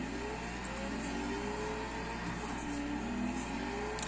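In Forza, a 1,500hp Tokyo Drift Mustang engine holds a steady loud drone with rising and falling pitch sweeps as it revs and changes speed, with no talk over it.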